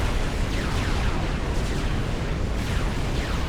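A battleship takes heavy fire in a Supreme Commander: Forged Alliance 3v3 match, with a dense, continuous wall of rumbling explosions and artillery booms that stays loud and steady throughout.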